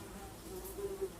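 Faint, steady buzzing of a dark swarm of flies, a low droning hum with slight wavering, heard alone at low level.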